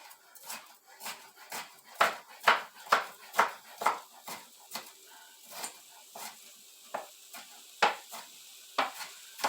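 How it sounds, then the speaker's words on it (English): Knife chopping frozen peppers on a cutting board, a steady series of sharp, close knocks in an uneven rhythm, some louder than others, with faint background sounds between strokes. "These were my frozen peppers. I'm just going to chop these up."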